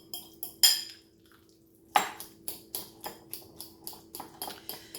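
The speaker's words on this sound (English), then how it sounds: "I want to mix it all up real well to get all those seasonings" Seasonings are mixed into pork carnitas for a keto burrito bowl, a utensil clinking and scraping against the bowl in a steady run of about a dozen close, crisp strokes.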